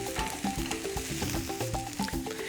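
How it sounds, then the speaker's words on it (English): Steaks sizzle on a hot grill at a tailgate with a steady, dense crackle and spitting that runs throughout the clip, with no voices over it. "So give each steak a quarter turn to lay on that crosshatch of grill marks."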